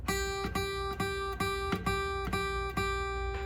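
Acoustic guitar note on the second fret of the low E string, plucked about eight times in an even, steady pulse, each pluck bright and close with a short ring before the next.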